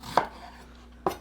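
A knife chops an onion on a cutting board, two sharp, close knocks about a second apart with quiet between them.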